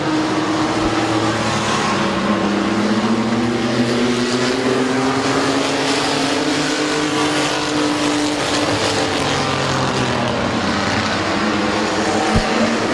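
Race trucks roar around the oval at Midvale Speedway in a steady, loud engine drone, with rising and falling pitch as the field passes, continuous throughout.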